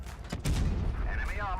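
Gunfire and blasts from a tank battle in the game Blitz, a dense rumbling barrage with sharp shot onsets early and a sustained low roar, plus whistling sounds near the end.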